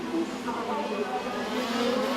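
KZ racing karts with TM, Vortex and Maxter engines at the WSK CIK FIA World Championship final at Le Mans, a steady high buzzing engine drone with rising and falling pitch from passing karts under a commentator's voice.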